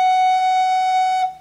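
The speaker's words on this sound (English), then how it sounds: "That's F sharp. It sounds like this." Recorder holding a single steady F sharp for just over a second, a pure clear tone close by that fades at the end, with no voices.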